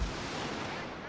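Cannon fire during a strategy video game battle in a burning town, a dense, sustained rumbling roar with a heavy low boom at the start and continuous broadband blast noise throughout.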